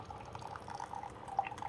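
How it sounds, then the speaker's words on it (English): Descaling solution trickles and drips steadily from a Keurig K-Latte single-serve coffee maker on its 10-ounce brew setting, a faint, continuous liquid stream with no voices. "there's the clear descaling solution coming out on the 10-ounce setting"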